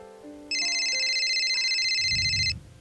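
An electronic telephone ringtone rings for an incoming call, a steady bright warbling tone sustained for about two seconds over faint background sounds, ending with a brief low rustle.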